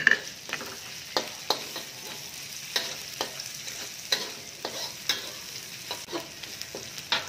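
Chilies stir-frying with chicken in a hot pan, a steady sizzle broken by repeated sharp scrapes and clacks of a utensil at an irregular rhythm, close and fairly quiet with no talking.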